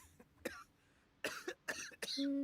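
A Genshin Impact character gives several short raspy coughs with brief pauses between them, close and clear, followed by a low tonal game sound.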